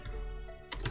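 A few quick keystrokes tap on a computer keyboard, with a faint hum between them and a short cluster of clicks near the end.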